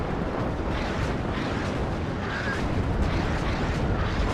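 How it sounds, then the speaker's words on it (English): A rocket strike in the WARNO war game pounds a battlefield, a dense, continuous roar of overlapping rumbling explosions that fills the scene and stays loud throughout without a clear break. "Big rocket strike again, going to force me to reverse that M1IP."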